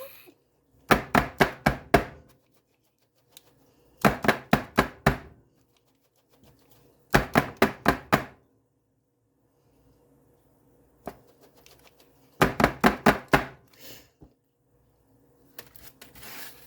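Pan of pumpkin roll batter being shaken and patted on a kitchen counter: four bursts of rapid knocking taps, each a quick run of five or six sharp raps, separated by pauses of near silence.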